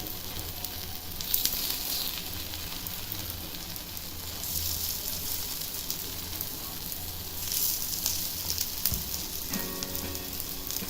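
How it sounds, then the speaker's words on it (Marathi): Rice appe fry in an appe pan over a low gas flame, giving a steady, close sizzle with soft crackling that swells and fades slightly throughout. "आता ह्या बाजूनं पण 2 मिनिटं असं शेकून घ्यायचं बारीक गॅसवर."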